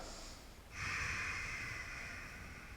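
Deep breath taken during a yoga lunge, a soft inhale swelling into a sustained airy breath, close and fairly quiet with no speech.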